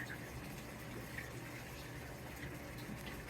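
A Samsung washing machine filling with water on its first load, a soft steady rush of running water that stays low and continuous with no speech over it.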